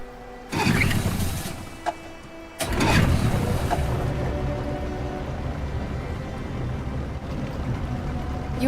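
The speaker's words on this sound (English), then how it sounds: "We can use the engine." An engine in a video game coughs into life with two abrupt bursts, then settles into a steady, loud rumble that continues to the end.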